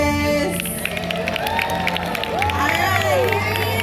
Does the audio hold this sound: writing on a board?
no